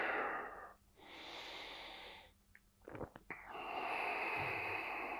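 Slow, deep breaths during a gentle yoga twist: a long airy exhale, a pause, a few short sniffs and catches, then another long steady breath, close and soft.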